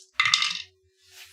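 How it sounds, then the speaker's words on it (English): Dice clatter on a table during a tabletop roleplaying game, one short, bright rattle lasting about half a second, followed by a faint trailing tick, close and with no voices. "Roll 2 dice of damage."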